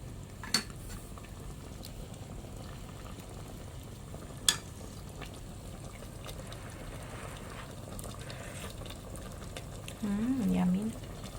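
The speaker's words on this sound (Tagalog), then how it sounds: "Tapos nagluluto sa rice cooker." Chicken menudo simmering in a rice cooker, a soft steady bubbling and sizzling hiss with a couple of sharp clinks of a utensil against the pot, and a short hum of a voice near the end.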